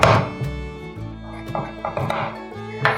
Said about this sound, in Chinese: 把芋头切条